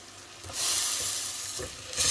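Chopped onion sizzling and frying in a pan for Algerian sfiria sauce, a steady hiss with soft stirring scrapes swelling in bursts, close and fairly loud with no talking.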